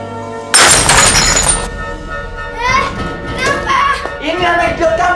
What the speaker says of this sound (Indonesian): Ini anak idiot kamu, banting gelas kopi saya